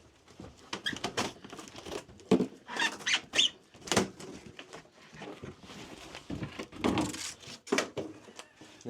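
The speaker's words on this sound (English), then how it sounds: "the door just fell off" A houseboat cabin door squeaking and falling off, with repeated creaking squeaks, knocks and rattles in irregular bursts, close by.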